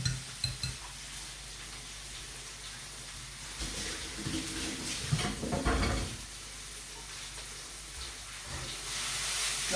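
Onion cooks in a pan with a continuous sizzle and frying crackle, broken by occasional stirring scrapes and louder bursts around the middle, with no talking.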